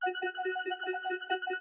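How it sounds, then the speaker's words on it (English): A simple synth pad from Analog Lab holding a single C note, sustained and steady with a soft, slightly pulsing shimmer, playing alone for under two seconds. "a simple pad from Analog Lab, which is just a C note right there"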